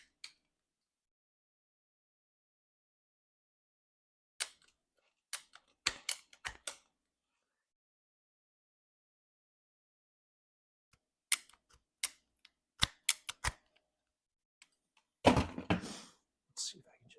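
Sharp thunks and clicks of cutting at the bottom of a Balfour (dinner plate) Aralia bonsai root ball during a repot, in short scattered bursts with long quiet gaps and a louder scraping rustle near the end.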